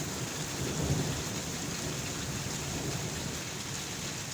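Heavy downpour in a city under thick dark clouds, a dense steady roar of rain with a low rumble of thunder underneath, constant and enveloping with no voices.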